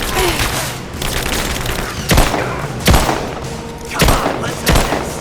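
Gunfire erupts during a battle in Rise of the Tomb Raider, a loud steady crackle punctuated by four or five heavy booming shots at roughly one-second gaps, very close and intense.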